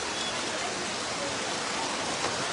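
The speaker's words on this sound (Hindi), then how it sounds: "बहुत तेजी से बरसात आ रही है लोसल के अंदर।" Heavy rain pours down in Losal, a dense, even hiss of water falling on surfaces, continuous and close with no clear voices.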